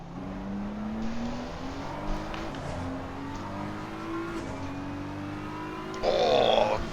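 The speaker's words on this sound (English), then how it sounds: "that McLaren of Velocity Racing coming out of the hairpin" A McLaren race car in a video game powers out of a hairpin at Suzuka, its engine pitch climbing through several upshifts in a steady rising pattern, with a brief high tire squeal near the end.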